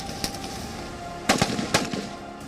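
Sharp gunshots crack out at a police commando smart-target firing range, a few scattered single reports followed by two loud close bursts with quick echoing tails.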